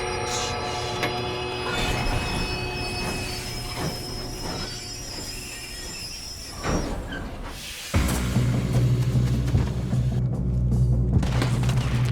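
In the Red Dead Redemption 2 video game, a train rolls past with screeching wheels and metallic clatter, then a heavy, deep rumble surges in louder and close for the rest of the clip.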